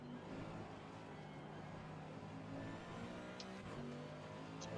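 A BMW race car engine in a racing video game drones steadily with rising and falling revs, joined by other cars' engines in a continuous mechanical hum.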